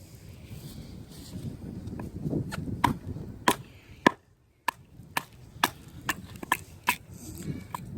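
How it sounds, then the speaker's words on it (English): Smoky Mountain Razor knife from Battle Horse Knives being batoned through wood: a run of sharp, woody knocks strikes at an uneven pace, each blow cracking through the wood up close, with a brief near-silent gap partway through. "So, they will baton through wood."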